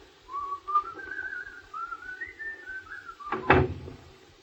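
A door sound effect in a 1952 radio play, heard as a single solid thunk of a door knocking shut near the end, after a whistled tune.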